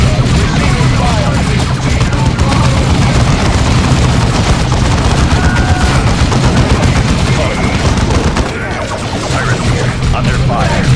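Continuous battlefield gunfire in the strategy game Warhammer 40,000: Dawn of War II, loud dense rattling bursts and shots layered with low rumble, running nearly unbroken across the whole stretch.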